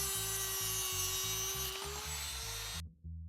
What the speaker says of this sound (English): we twist the tail out of the mold and trim off the tube with the Dremel